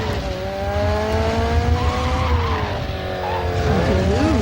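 A Nissan 240SX corners hard with long, rising and falling tire squeals over a steady engine drone, close and continuous throughout.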